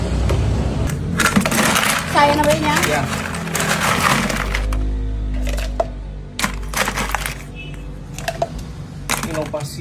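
Ice cubes clatter and crack as they drop into an es teler drink at a street food stall, a burst of sharp clinks followed by a few scattered knocks, with people talking throughout.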